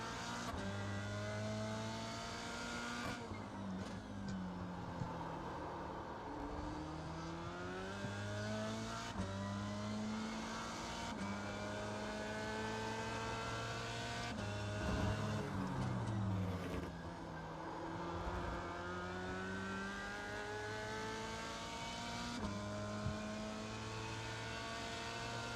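Simulated F3 race car engine at Interlagos, racing-game audio, revving hard through the gears with repeated rising pitch sweeps and shifts, a steady continuous high-revving drone throughout, close and loud with no talking.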